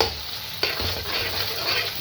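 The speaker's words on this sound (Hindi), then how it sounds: "ये थोड़ा सा गर्म होता है तो मैं इसके अंदर प्याज डालती हूँ।" Three roughly chopped onions go into hot cooking oil and sizzle loudly and steadily, with a sharp clatter as they are stirred in a pan.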